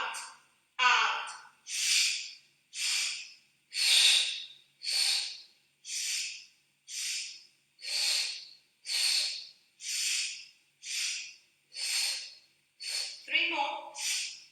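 Fast rhythmic breathing during a Pilates exercise, with about a dozen short, breathy exhales and inhales in a steady even pulse, close to the mic, with no talk over them.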